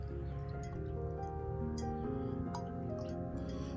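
A paintbrush is swished back and forth in a cup of water during a painting class, giving soft dripping, sloshing sounds close by under a steady low hum.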